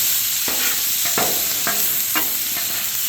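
Ribeye steak bites with garlic and herbs sizzle steadily in a pan, a constant bright hiss broken by several short scraping stirs at regular intervals, close and alone.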